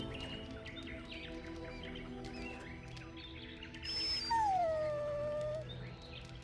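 A dog whines in the video game Dragon Age: Origins, a long, clear, high-pitched whimper that slides downward late on, heard above a quiet ambient game background with no speech.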